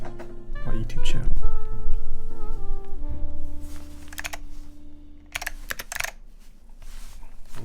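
Keys clack on mechanical keyboards fitted with linear switches in a sound test, with bursts of rapid close typing broken by pauses as a voice speaks over it.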